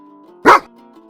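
One sharp, loud bark from a nearby dog, standing out against a quiet background tone.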